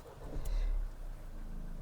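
A Mahindra Scorpio N Z8 Select's engine cranks and catches in neutral with a short loud burst, then settles into a steady low idle rumble, heard close with no talking.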